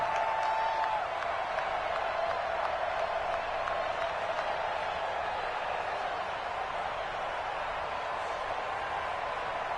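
Steady, dense roar of a stadium crowd cheering in an NFL video game matchup between the New York Giants and Philadelphia Eagles, a continuous wash of noise without breaks.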